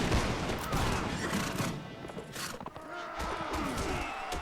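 A volley of musket fire from grenadiers in the Mount & Blade Warband battle game: a dense crackling fusillade of many shots, loud and close, trailing into scattered reports with horses and battle noise behind.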